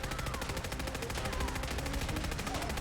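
Super Glock pistol fire in Fallout 4, a dense, rapid automatic stream of shots with steady rhythm and no pauses, loud and continuous throughout.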